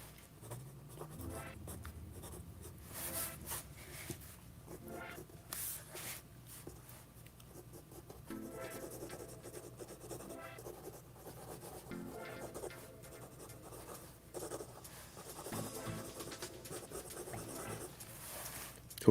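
A pencil or pen scratches and rubs across paper as large wings are drawn, a soft, close, continuous sketching with short strokes and light pauses, heard alone without talk.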